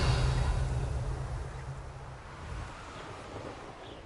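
Storm wind and a low thunder rumble in Hogwarts Legacy start loud and fade over several seconds into a softer, blustery wash, with no voices.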